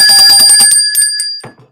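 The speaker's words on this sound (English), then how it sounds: "Ring the bell, Joe." A bell rings several times in quick succession on a weather podcast, the bright metallic tones loud and close, then fading into a short ringing tail.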